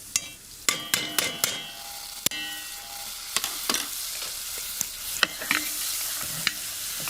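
Grated garlic and bulgur wheat fry in hot oil in a pan, sizzling steadily under repeated sharp scrapes and clanks of a utensil stirring, close and loud.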